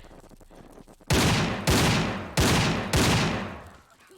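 Four loud, sharp gun bursts from the player's weapon in Tomb Raider IV, each a heavy blast with a decaying tail, spaced about half a second apart after a quiet start.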